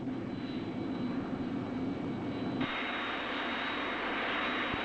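A remotely piloted QF-9 drone jet on landing approach with flaps and landing gear down roars steadily and loudly, its hiss brightening partway through as it nears touchdown.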